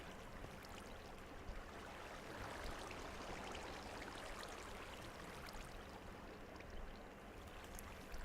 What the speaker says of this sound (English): a wicked waterfall coming off of our base